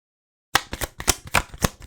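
Tarot cards being shuffled and drawn, a run of crisp, rapid riffling flicks and slaps close up after a moment of silence, with no talking.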